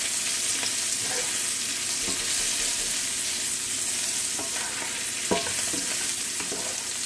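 Shrimp sautéing in a cast iron skillet give a continuous loud sizzle with scattered clicks and scrapes from stirring, steady throughout and close, with no talking.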